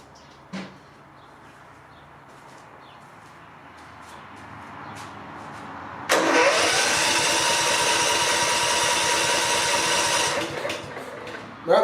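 A 1990s Craftsman lawn mower engine fueled by old gas left in the carburetor starts with a click, then runs loud and steady at a constant drone for several seconds before cutting off.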